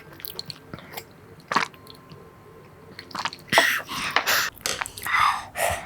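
Close-up crunchy chewing and biting of food during a mukbang, with sparse quiet bites at first, then a run of loud, wet, crunchy chews and mouth sounds near the microphone.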